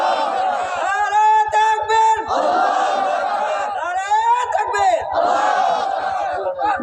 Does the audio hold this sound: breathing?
no